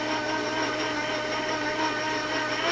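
An electric mixer runs at low speed through oatmeal crinkle cookie dough as dry flour is worked into the wet ingredients, giving a steady, close motor whir with no break and no voices.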